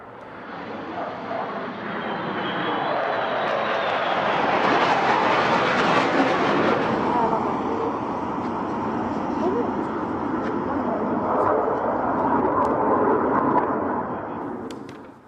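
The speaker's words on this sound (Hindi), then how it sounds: "आसमान में अमेरिका के फाइटर जेट्स उड़ रहे थे" US fighter jets flying overhead make a broad, loud roar that swells to a peak and then holds as a sustained rushing wash.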